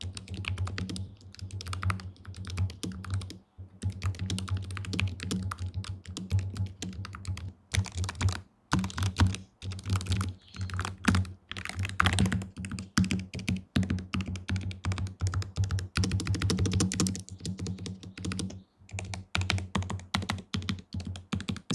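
Continuous typing on an ASUS ROG Falchion RX gaming keyboard, steady fast keystrokes close up with brief pauses, no talking.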